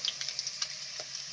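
Okoy fritters fry in hot oil, giving a soft, continuous sizzle with faint crackles and pops for a brief moment.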